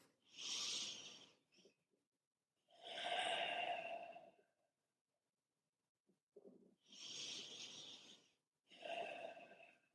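Four slow, deep breaths from a breathing exercise, each long airy inhale or exhale rising and falling in turn with quiet pauses between, close and fairly soft, with no talking.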